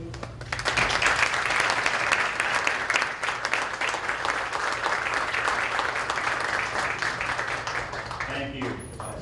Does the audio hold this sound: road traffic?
no